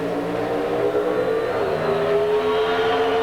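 Pro Stock cars at the 1992 NHRA Gatornationals in Gainesville, Florida, launch side by side from the start line in a sustained loud engine roar with rising revs and no voices.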